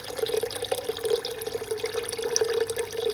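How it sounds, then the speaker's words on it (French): Water being poured over meat, tomatoes, onions and spices in a tagine, a close, steady running and splashing stream with faint drips, lasting the whole moment without any talk. "je vais rajouter de l'eau jusqu'à couvrir la viande"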